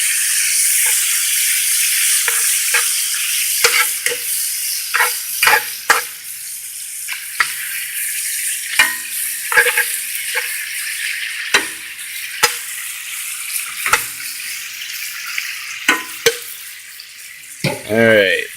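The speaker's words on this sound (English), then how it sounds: "our bacon's cooking up nice. We got some good grease in there" Bacon and potatoes fry in grease in a pan with a steady, bright sizzle, broken by repeated scraping and clinking of a utensil, which grows sparser toward the end.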